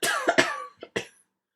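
A man coughs in a short fit of about four harsh, dry bursts, close and loud, the last two spaced apart before silence.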